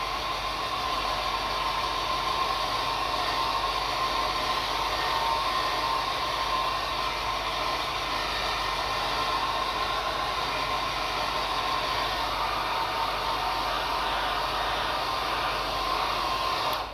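A hair dryer blows steadily at close range to dry a watercolor coastal landscape painting, a constant unbroken whooshing hiss throughout with no pauses.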